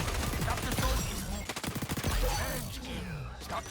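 A P90 submachine gun firing in a fast-paced first-person shooter, rapid close, loud automatic bursts that break off and resume, with a voice talking over parts of it.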